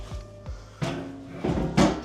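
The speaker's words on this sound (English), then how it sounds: "Bring over my throne chair" A wooden throne-style chair dragged into place with a couple of dull knocks, then set down with heavier thuds, close and fairly loud, no one speaking.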